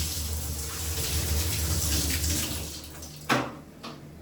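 Water from flooded walls gushing and splashing steadily into a container for several seconds, then a sharp splash and a couple of quieter pours as it is emptied.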